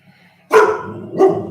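A dog, Miley, lets out two sharp barks about half a second apart, close and loud against a quiet room.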